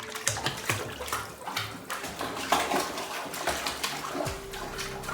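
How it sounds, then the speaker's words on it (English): A baby splashes in hotel bathtub water scented with essential oils, with irregular close sloshes and slaps of water against the tub continuing throughout. "I want to give baby girl an opportunity to swim in the bathtub with essential"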